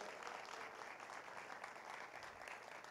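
A church congregation applauds a married couple called to the front, steady dense clapping throughout without pause.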